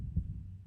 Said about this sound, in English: I like the heartbeat sound effect.